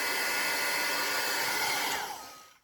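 A heat embossing gun blows hot air over salt dough, a steady loud whirring hiss that holds evenly for a couple of seconds, then winds down as it is switched off.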